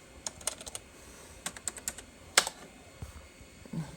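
Keys clacking on the keyboard of a 1987 Acer 500+ XT computer, scattered quiet taps in short bursts with gaps between, close and alone with no voices.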